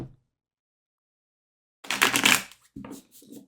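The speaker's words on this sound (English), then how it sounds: "I'm just kind of like a basic girl with just shuffling in chunks of 3" Tarot cards shuffled by hand in small chunks of three, a short papery rustling burst after a long silence, followed by a few softer flicks and shuffles close to the listener.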